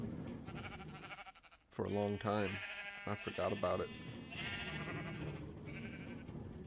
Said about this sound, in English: I forgot I had a sheep farm.